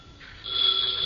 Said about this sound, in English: Her phone had rung almost constantly since I left there, and it was still ringing